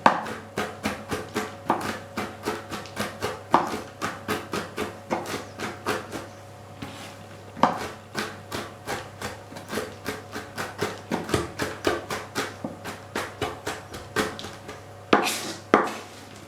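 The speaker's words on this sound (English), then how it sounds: "you want them fairly well chopped because you don't want big chunks of hazelnut in it" Rapid, steady knife strikes on a chopping board while hazelnuts are chopped, close and crisp, a regular tapping rhythm with brief pauses over a low constant hum, no talk.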